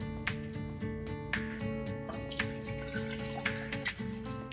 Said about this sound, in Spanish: En la ollita que está aquí vamos a agregar el medio litro de agua